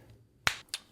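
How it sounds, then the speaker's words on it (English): Two crisp finger snaps, the first sharp and strong, the second a beat later and slightly softer, close by against a quiet room. "I'm going to snap my fingers"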